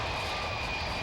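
Airplane engine during takeoff from inside the aircraft, a steady, loud roaring drone with a constant tonal whine, continuous and unbroken.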